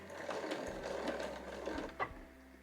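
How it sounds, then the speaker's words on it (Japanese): A home sewing machine stitches along the edge of a size 8 canvas tote bag, starting with a backstitch; a steady, close whir of rapid needle strokes runs the whole time, ending with a brief clunk. "そしたら1センチ先に針を下ろして返し縫いからスタートします"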